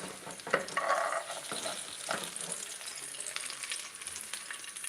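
Peppers fry in a home kitchen pan with a steady, close sizzle and crackle, a few louder spits and stirring clatters early on, then settling into a softer continuous hiss.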